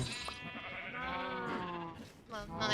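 Sheep in a farming video game bleat in a drawn-out, wavering call that fills most of the moment, followed by a second shorter bleat near the end, with some faint background noise underneath.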